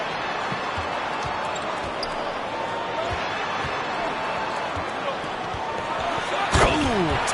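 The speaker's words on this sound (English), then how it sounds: "Tatum slams it home." A slam dunk in the NBA 2K23 basketball video game, a hard rim-and-ball impact rising near the end over steady crowd and court noise, with an announcer talking throughout.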